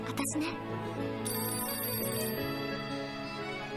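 A phone rings with a steady electronic ringtone in a reaction setting, the tone running continuously under overlapping speech from people talking.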